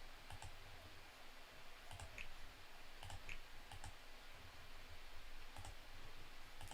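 Mouse clicks from menu navigation in the Going Medieval game: crisp, close, faint clicks in small irregular clusters over a quiet background, with no talking.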